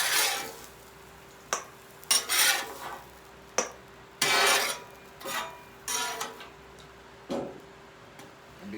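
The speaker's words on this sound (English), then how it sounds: "we're going to take the sweet potatoes off the griddle" Sweet potatoes are lifted off a griddle with a metal spatula, a run of sharp, close scraping and clinking strokes spaced irregularly over a faint background, with no talk.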